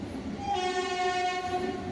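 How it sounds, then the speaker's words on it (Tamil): A Chennai MRTS suburban train passes close by, its horn sounding a long sustained tone over the rumble of the rail cars, with no talking. "இது எம்ஆர்டிஎஸ் போகிறது."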